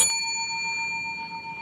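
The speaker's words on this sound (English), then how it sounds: "We have the very simple little clapper at the bottom, the stand, and the bell, and the push button to activate it." A modern brass counter call bell, struck once by its push button and clapper, gives one bright, close ding that rings on with a clean, steady sustain.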